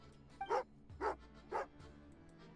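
A dog in the video game Genshin Impact gives three evenly spaced barks, close and clear over a quiet game background, with no talking.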